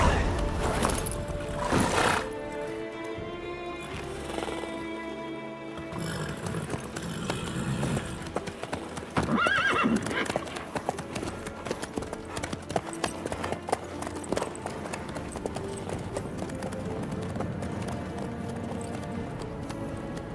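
Horse hooves clip-clop steadily through The Witcher 3 video game, a rhythmic trot running the whole time under game music and occasional dialogue.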